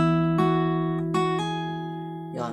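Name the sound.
guitar first string plucked, fretted at first fret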